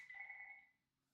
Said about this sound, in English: house phone's going off